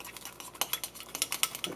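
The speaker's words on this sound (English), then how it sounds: "you're supposed to really stir it up like this until it gets lathery" Natto being stirred briskly in a bowl until lathery, a quick rhythmic run of close, sticky clicks and scrapes from the utensil against the bowl.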